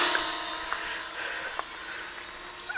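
A small JJRC H37 Elfie Selfie folding quadcopter drone flies with a loud, high-pitched buzzing whine that shifts slightly in pitch as it moves, steady and close throughout.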